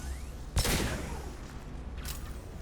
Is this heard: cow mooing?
no